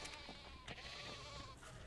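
Sheep bleating in the ARK Scorched Earth video game, a few wavering bleats over a steady game background, with louder calls near the start and middle.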